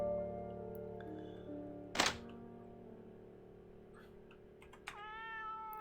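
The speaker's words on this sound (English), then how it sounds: "The small white cat seems to be a new addition to the family." A small white cat in the video game The Deed: Dynasty gives a short, close meow, with a few soft clicks, over a faint steady musical background.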